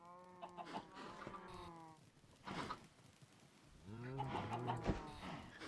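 Chickens cluck and squawk in a video game, with a few moderately close calls in separate bursts against a quiet background, and no talk.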